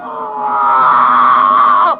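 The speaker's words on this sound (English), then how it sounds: "The screams of his victims still echo in his chamber of horrors." A high, sustained scream from a torture victim in a horror film trailer, one loud continuous shriek lasting about two seconds before cutting off abruptly.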